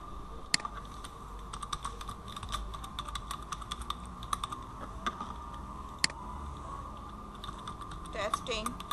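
Typing on a computer keyboard gives quiet, irregular clicks and taps. Scattered sharper keystrokes stand out through the stretch, and someone speaks softly at times under a low, steady background hum.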